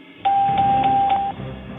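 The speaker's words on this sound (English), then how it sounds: "Do you hear the bell ring? That means I got it." During a radio show's word-guessing game, a single loud electronic bell tone marks a correct answer, held steady for about a second before cutting off.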